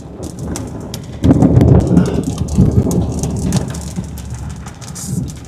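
An Oklahoma supercell thunderstorm with lightning and steady rain, a loud, deep rumble of thunder rolling in after a moment and lingering over the constant hiss of rain.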